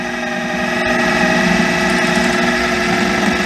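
A food processor spinning pie crust dough: a loud, steady motor whir with a constant rattling drone and strong hum that holds unchanged throughout, close by and without talk.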